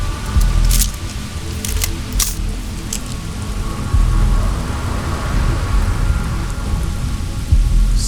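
Steady rain patters on surfaces during a thunderstorm on the planet Neon in the video game Starfield, with low rumbles of thunder rolling beneath the constant downpour and occasional sharper crackles.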